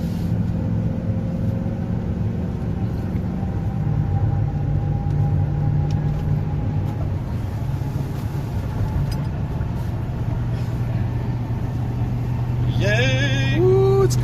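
Steady engine and road drone from inside a Ford Super Duty pickup towing a trailer up onto a highway, a continuous low rumble with a rising whine near the end and no speech.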